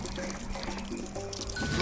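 Water pours steadily into a pot in the VR cooking game Lost Recipes, a continuous close liquid rush and trickle that lasts the whole moment, with no talk.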